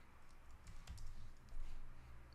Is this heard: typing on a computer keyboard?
yes